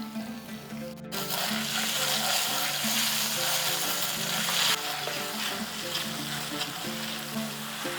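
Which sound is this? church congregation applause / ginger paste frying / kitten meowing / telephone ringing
ginger paste frying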